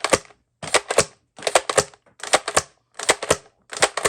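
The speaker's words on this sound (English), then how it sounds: "Let's fire a couple of these and see how we do." A 1998 Nerf SuperMaxx 5000 turret fires foam darts in quick clusters of two or three sharp, close mechanical clacks, separated by short pauses.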